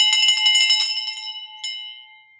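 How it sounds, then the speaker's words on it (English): A handbell rung in celebration of a closed deal, a rapid burst of bright metallic clangs for about a second, then one more clear strike that rings out and decays. "We're ringing this bell."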